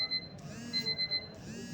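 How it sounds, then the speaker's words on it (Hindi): An alarm on a phone rings during an online revision class, a repeating electronic beeping pattern in clear on-off pulses, fairly close and alone without talk. "ये स्लाइड कर दें अलार्म जो अब बज रहा है ना"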